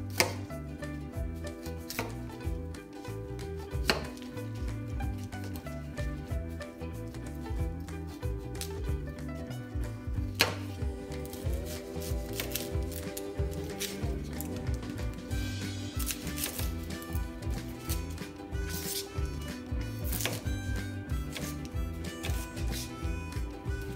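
Boiled carrots sliced with a knife on a cutting board in a home kitchen, a long run of quick, crisp chopping taps at close range, steady and fairly even in rhythm, with no talking.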